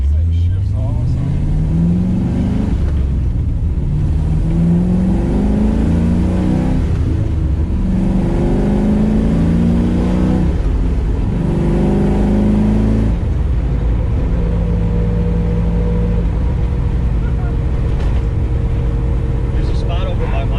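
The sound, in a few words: car engine revving and shifting gears on back roads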